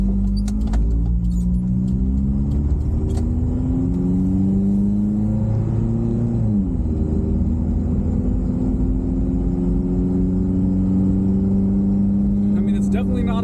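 A Toyota 22RE engine fitted with a new 2.25-inch exhaust, header and catalytic converter revs up and eases back down, a loud, close rumble that rises in pitch before settling into a steady drone.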